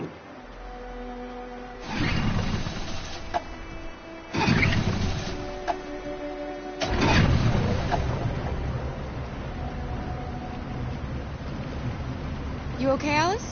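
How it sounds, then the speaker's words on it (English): An engine in the video game Detroit: Become Human rumbles into life with a deep, loud churning roar that swells and then settles into a steady drone, while voices talk over it. "Let's get that engine going."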